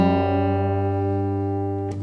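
Two guitar strings, the fifth tuned down to G, ring together against the open G string, a steady sustained chord with slight beating as the pitches align, then a short pluck at the end.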